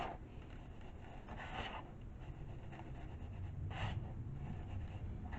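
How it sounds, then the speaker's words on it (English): Hands rubbing a powdery bath bomb mixture to break up small yellow chunks, a faint, close, scratchy rustling in short repeated strokes, with no talking. "I'm just rubbing it in my hands to get all the little yellow chunks out"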